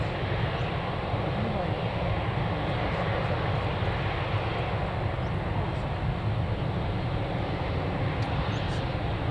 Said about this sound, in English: Lovely landing by the pilots there.